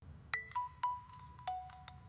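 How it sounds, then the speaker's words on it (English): A phone ringtone of short, melodic electronic tones plays in a repeating pattern over a faint low hum, with no voices, a call coming in from Frank. "Frank is calling."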